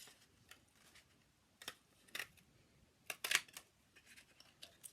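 A paper shape for a 3D box card is punched out, producing a handful of sharp, quiet clicks and snaps spaced irregularly, with one louder crunch near the end.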